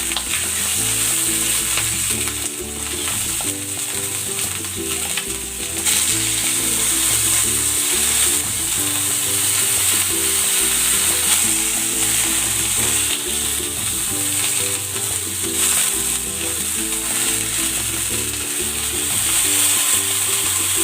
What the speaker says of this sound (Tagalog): Ipiprito ko muna ng bahagya itong chicken para magkaroon ng magandang kulay yung balat nito.